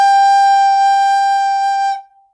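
A recorder sounds a single sustained G note, warm and low, held steady and clear for about two seconds before stopping cleanly, alone with no talking.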